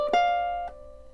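A single bright plucked ukulele note on the A string rings out clearly and sustains, followed by a softer second pluck as it fades, close and alone.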